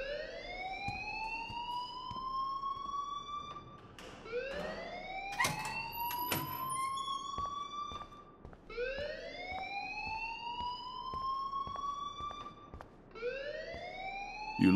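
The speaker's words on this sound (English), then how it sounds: "please turn off that alarm since that's your job" A rising-and-falling electronic alarm in the video game Life Is Strange wails loudly in repeated sweeping cycles of about four seconds, with short bursts of other game sounds between sweeps.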